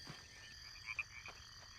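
Frogs croak in a marsh within the video game My Sims Agents, a few soft, brief calls rising over steady ambient game music and background tones.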